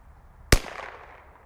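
A single sharp crack from a CZ 457 .22LR rifle firing Eley Match ammunition, a loud close report with a brief fading tail, alone.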